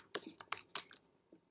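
Several quick keystrokes patter on a computer keyboard as a color group name is typed in, a brief close burst of light clicks followed by one last tap.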